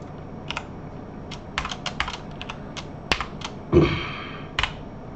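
Keys tapped on a computer keyboard in short, uneven bursts of crisp clicks, one heavier thump near the middle, close and fairly quiet, with no voices.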